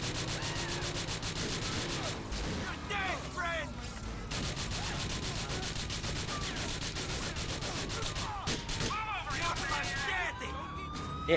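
Car driving on bare rims with no tyres in Grand Theft Auto IV, a continuous harsh metallic scraping and grinding under engine drone, with sirens wailing and gunfire crackling around it, loud and close throughout.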